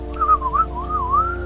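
A person whistles a short, gentle, wavering tune, soft and close, in imitation of a creature's affectionate little whistle, over a faint steady hum.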